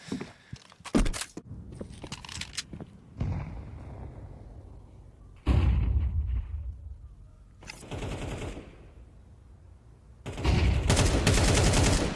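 Rapid rifle gunfire in a Counter-Strike 2 match, several loud bursts of automatic shots separated by quieter stretches, close and sharp with no talk.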